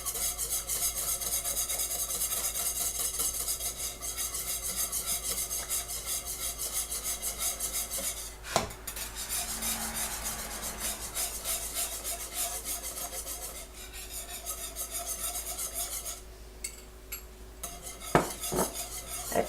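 A spoon stirring pectin into boiling tomato juice in a pot for 1918-style tomato jelly, continuous scraping and rubbing against the metal with a few sharp clinks near the end, close and steady.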